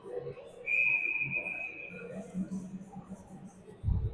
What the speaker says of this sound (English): Referee blows the whistle.